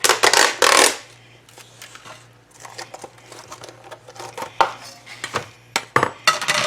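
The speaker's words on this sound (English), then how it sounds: "to this, we're going to add some almonds" Thinly sliced almonds tipped into a bowl of Asian chicken salad, a brief rush of light patter and clinks at the start, then scattered small rustles and taps as the salad is handled, close and fairly crisp.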